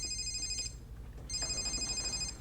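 A phone rings in two electronic trilling bursts separated by a short gap, clear and close over a low background rumble.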